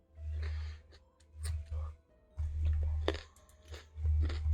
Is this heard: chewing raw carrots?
yes